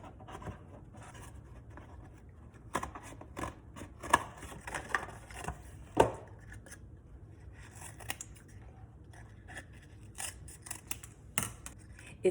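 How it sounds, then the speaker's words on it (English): Scissors snipping through paper to make a chute, a run of irregular close clicks and crisp cuts with soft rustling between them. "So I'm just gonna start cutting"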